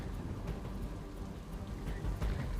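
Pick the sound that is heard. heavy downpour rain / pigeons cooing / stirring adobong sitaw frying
heavy downpour rain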